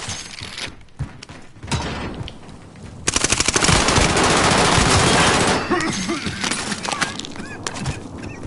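Enemy gunfire in Call of Duty Warzone: dense, sustained automatic bursts ring out loud and close, with shattering impacts and brief pauses between volleys, while a voice speaks faintly underneath.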